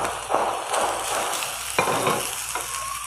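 Chicken kachori filling with capsicum frying and being stirred in hot oil in a pan, a steady sizzle with intermittent scraping stirs, close and fairly loud, no talking.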